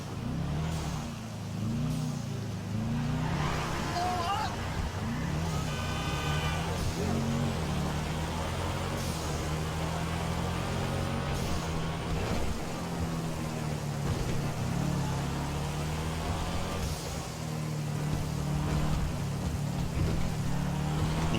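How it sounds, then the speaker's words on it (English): A Sultan RS car in GTA 5 drives along with its engine rising and dropping as it revs through gear changes. Traffic-like rumble runs continuously, close and steady, with no talking. "now we're going to drive the OG Sultan RS over to my other tuner"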